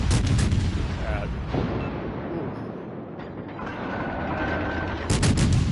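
Heavy booming salvos from Japanese battleship guns in World of Warships Legends, loud blasts opening and closing the stretch with rumbling decay between, no talk heard.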